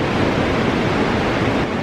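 Steady ocean surf at high tide, the water rising up the shore, making a continuous loud wash of waves mixed with wind rumble, with no voices over it.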